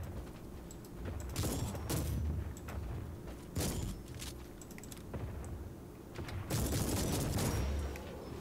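Shotgun blasts in a video game set aboard an ancient Imperial ship infested by chaos, several heavy booming shots spread through a dense, busy barrage of battle noise with mechanical clatter.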